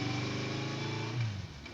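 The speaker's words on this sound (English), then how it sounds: "She took off on her motorcycle." An in-game motorcycle in Steins;Gate 0 revs and pulls away with a steady buzzing engine drone that rises briefly in pitch as it accelerates off.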